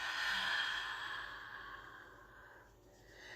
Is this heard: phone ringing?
no